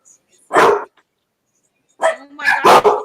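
A pet dog barks close by, with one short bark followed after a pause by a quick cluster of two or three sharper barks, with a brief whine between them.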